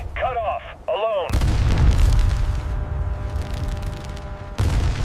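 Loud booming explosions and bursts of gunfire from a war documentary tank battle at night, a heavy sustained rumble following a short tonal intro, with a sharp burst returning near the end.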